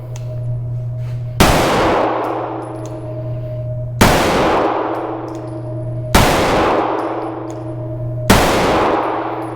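Walther PDP 9mm pistol shots ring off steel targets as four loud, sharp cracks with a ringing metallic clang, spaced roughly two seconds apart and decaying over a steady low hum.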